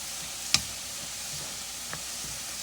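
Filling for Chinese takeout-style egg rolls cooking down in a wok, a steady soft sizzle with a couple of sharp utensil clicks against the pan, close and unbroken by talk.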